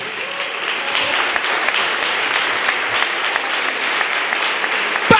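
A crowd at a memorial gathering applauding to honour Ahmed Bakayoko, steady dense clapping from many hands, loud and sustained for the whole stretch.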